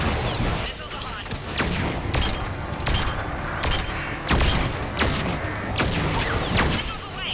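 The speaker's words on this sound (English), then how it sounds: "Missiles are hot." Missile volley from a Mass Effect battle, a rapid fusillade of booming launches and thuds in steady succession, loud and dense over a rumbling combat backdrop with voices mixed in.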